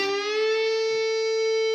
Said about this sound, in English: It's actually a half step bend on the 12th fret of the G string.